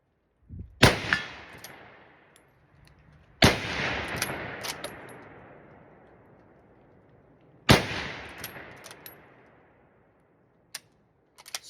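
A malfunctioning Enfield SMLE rifle fires three loud, sharp shots that ring out with long fading tails, spaced several seconds apart, with metallic clicks of the bolt cycling between and after them.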